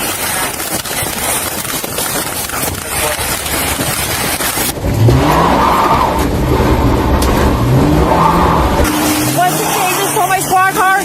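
A stolen police squad car revs hard as it speeds away, with loud engine and tyre noise rising and shifting across the scene amid background commotion.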